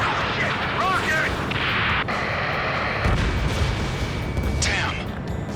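Rocket explosions and booming blasts erupt in the Ace Combat 7 flight game, dense and loud over continuous jet roar, with sharp impacts and bursts.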